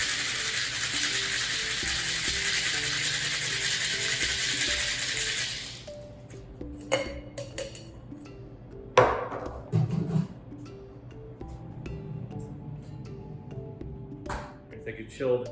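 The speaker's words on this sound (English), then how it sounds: "Make sure your shaker is sealed up nice and tight, and we're going to shake it until it gets nice and chilled" Cocktail shaker packed with ice being shaken for an Eden cocktail: a loud, steady rattling hiss of ice for several seconds, then stops, followed by scattered clinks and handling noises.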